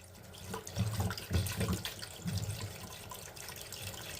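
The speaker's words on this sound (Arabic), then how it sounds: "غادي نوضع الماء" Water pours and splashes into a pot with lemon and herbs, about 2 liters going in for a honey-style sugar syrup, an uneven gurgling stream heard close and fairly quiet.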